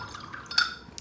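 A little water is added to handmade watercolor paint: a faint, brief wet trickle and drip with a tiny clink near the middle, all within about a second.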